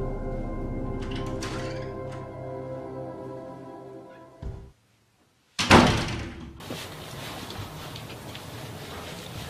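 Door at a house, a heavy thud and slam after a steady hum cuts out, followed by a brief rattle and a noisy room tone, with no clear speech.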